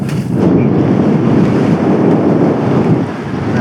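Strong wind buffets the microphone on an exposed hilltop campsite in the Peak District, a loud, steady roar with gusty swells and no speech, easing slightly near the end.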